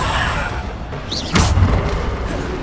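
Descendo spell cast in Hogwarts Legacy, a single heavy boom with a sharp thud at the moment of impact, followed by a rumbling tail. It plays amid game ambience with no voices.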